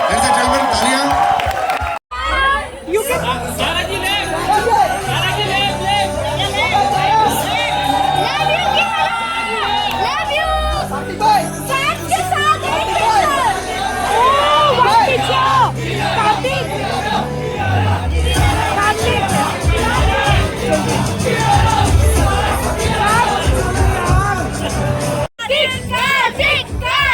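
Loud audience cheering, shouting and applause at a film song launch event, a dense continuous crowd roar sustained throughout with music underneath and a couple of brief dropouts.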